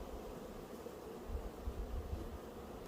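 Honeybees buzz at an open hive during a spring inspection, a steady low droning hum with slight swells, close and fairly quiet, with no voices.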